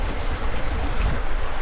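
A sailboat moves through mid-Atlantic ocean waves at night on the way to St Helena, a loud, steady wash of water and wind rushing past the hull, continuous and close, with no voices.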